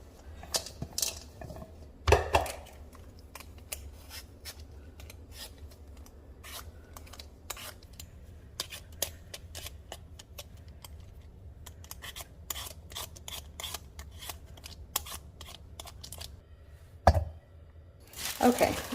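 Gold potatoes are peeled by hand in a kitchen, giving a run of short, close scraping and clicking strokes with a few louder knocks, while a person speaks intermittently.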